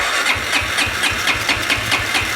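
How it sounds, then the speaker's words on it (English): A 2009 Arctic Cat DVX 300 ATV with a leaking carburetor cranking and starting, its small engine chugging in a quick, uneven rhythmic pulse, loud and close throughout. "See if we can get it started up again."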